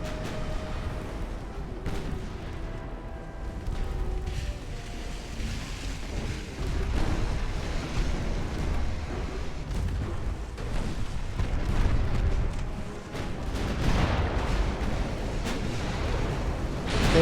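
Warship guns firing in the naval game Ultimate Admiral: Dreadnoughts, a continuous rumble of booms and sharp cannon reports in rapid irregular succession, loud and dense with no voices.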